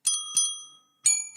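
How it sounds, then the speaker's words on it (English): Two bells, one an E flat, ring together in bright metallic strikes that blend into a bicycle-bell tone, with two quick dings, a pause, then two more, each ringing on briefly and close. "the two of them together sounds like a bicycle bell"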